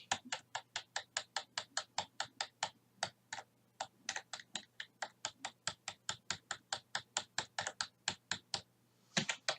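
A computer keyboard with unevenly sensitive keys being typed on steadily, with crisp, evenly spaced key clacks close up and alone, broken by a couple of brief pauses.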